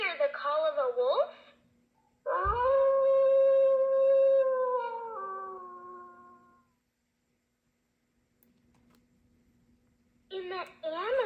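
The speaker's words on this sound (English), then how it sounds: "can you hear the call of a wolf?" A wolf howl played from a children's button animal sounds book (Ditty Bird First 100 Animals): one long, sustained, slightly wavering electronic howl, framed by a voice talking before and after.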